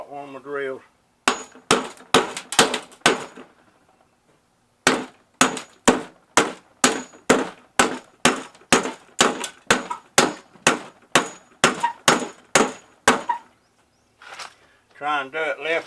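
Sharp metallic hammer blows ring out while an AC unit is scrapped, struck left-handed in quick bursts separated by short pauses, loud and close with a bright clanging edge, and a voice talks briefly at the start and end.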